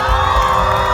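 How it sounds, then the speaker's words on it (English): A crowd cheers loudly at a pig race, a dense, continuous roar of whoops and shouts with children's voices mixed in. "that's when we add the cheering"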